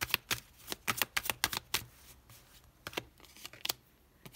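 Tarot cards being shuffled and drawn by hand, a quick burst of crisp papery riffles and snaps that comes up close, then a short pause before a few more flicks near the end.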